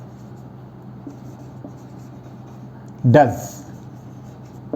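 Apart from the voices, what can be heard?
writing words on a board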